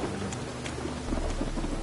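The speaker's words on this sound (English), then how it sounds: "Witches have conjured rain." Heavy rain pours steadily while low thunder rumbles underneath, swelling louder in the second half, with scattered sharper drips standing out on top.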